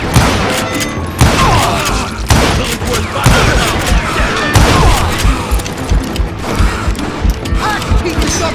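Western-style shootout gunfire from the video game Call of Juarez Gunslinger: repeated sharp shots in irregular bursts, loud and close, with clattering impacts and some shouting voices mixed in.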